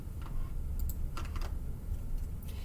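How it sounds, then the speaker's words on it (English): Buttons pressed on a TI calculator: a handful of small, quick clicks in irregular bursts, close and fairly faint over a low background hum, with no talk. "I keep clicking the wrong button"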